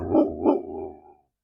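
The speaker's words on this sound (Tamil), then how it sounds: "இப்ப மற்ற ஆளு இன்னொரு ஆளு வந்திருக்கனால பார்த்து குலைக்குது" A dog named Tara barks twice at a stranger, sharp and close, then trails off into a lower, fading growl-like sound.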